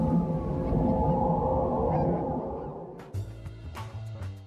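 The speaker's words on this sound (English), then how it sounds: "eerie soundscapes, noises from scraping metal and howling wolves" A North Korean loudspeaker broadcast pours out an eerie droning soundscape of scraping metal and long, howling wolf-like wails. A rumbling low layer gives way to shriller, scratchy tones near the end.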